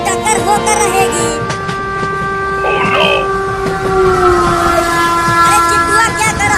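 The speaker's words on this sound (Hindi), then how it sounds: "लगता है अब दोनों ट्रेन की टक्कर होकर रहेगी।" Two cartoon trains rumble toward each other with sustained horn and whistle tones, clattering wheels and mechanical noise, building in intensity, while a voice shouts briefly in the middle.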